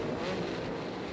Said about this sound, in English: They're revving up the machines